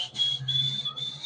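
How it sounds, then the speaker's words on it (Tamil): A boy whistles a tune, a steady high melodic line with brief breaks between phrases, clear and close with no talk over it. "He whistled up a tune."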